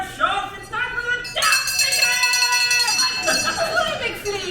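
A hand bell is waved and rung at an outdoor St. Patrick's Day show, with bright clanging strokes ringing out in quick succession around lively singing voices.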